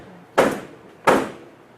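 Two heavy knocks on a door at night, loud and close, each a strong thud that fades quickly, spaced under a second apart in otherwise quiet surroundings.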